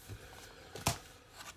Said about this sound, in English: I'm going to roll the dice to find out